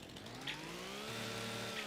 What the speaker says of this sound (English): We do have a chainsaw. Let's just see if we can.